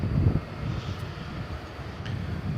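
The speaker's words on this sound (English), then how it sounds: "This is an Airbus A321 destined for Denver, the Mile High City." An American Airlines Airbus A321 airliner at DFW Airport makes a steady low engine rumble at night, distant and continuous, with no voices.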